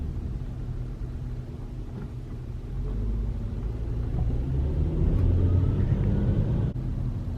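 Steady low engine and road rumble fills the inside of a moving car, swelling slightly louder partway through, with no talking.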